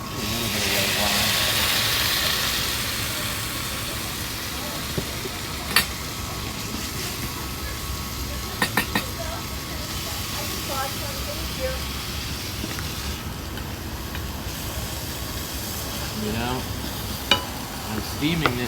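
Patty pan squash and portabella mushrooms steaming with a splash of white wine in a pan, a continuous soft hiss and sizzle with a few sharp utensil clicks, a voice talking over it at times.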